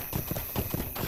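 Horse hooves walking in Lord of the Rings Online, a steady near clip-clop of several footfalls heading down into the valley of Imladris, clear and rhythmic over a faint ambient bed.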